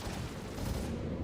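Star Citizen game combat, a steady wash of rapid gunfire with a thick, rumbling texture and no clear gaps between shots, loud and unbroken for the whole moment.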